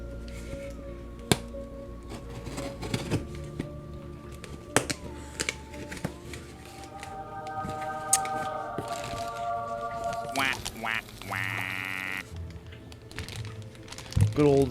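An off-brand Ziploc bag of aquarium plants shipped from Florida is cut open and unwrapped, giving close crinkly rustles, snips and plastic handling clicks amid background music, with a brief squeak near the end.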